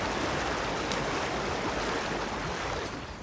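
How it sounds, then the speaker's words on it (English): Rushing water where the Dakota River mouth flows into Flatiron Lake in the video game Red Dead Online: a steady, dense, loud wash of flowing water that continues unbroken, with no voices. "Now we're crossing the incredibly beautiful Dakota River mouth flowing into Flatiron Lake."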